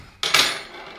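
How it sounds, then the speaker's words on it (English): A spoon briefly scrapes and clinks in a bowl, mixing white sugar and cocoa for chocolate icing; one short, close clatter rings out and fades over about a second. "Now, I'm going to mix that together just to get it"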